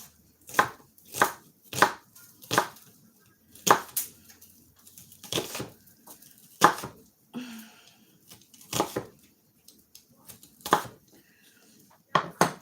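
Knife chopping half an onion on a cutting board for Kara-Tur noodles, steady rhythmic thuds about every half second, close and clear, with a few softer scrapes between strokes.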